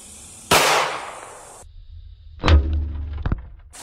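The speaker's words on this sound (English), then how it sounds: "9mm versus the gold bar." A 9mm round fired at a solid gold bar: one sharp, loud report that rings out and fades, then a second hard crack followed by a brief rattle of debris, with no voices.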